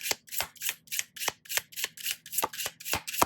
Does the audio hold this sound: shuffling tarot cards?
yes